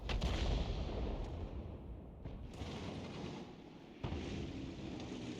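Heavy 155mm gun fire from an M53/M55 self-propelled gun in a video game, a sustained low booming rumble with a fresh blast near the end, loud and without talk.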